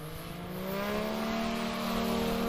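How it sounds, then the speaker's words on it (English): An electric blue Badlands Traveler STOL plane, powered by a Yamaha 998 Sidewinder engine, drones steadily at the line. The engine note builds to a loud, sustained rising whine with no voices over it. "Mike Babcock pulls up to the line in that electric blue Badlands Traveler, powered by the mighty Yamaha 998 Sidewinder"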